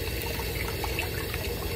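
Running water steadily rinses a Persian kitten during a bath, a continuous close splashing flow from a tap or sprayer with no talking.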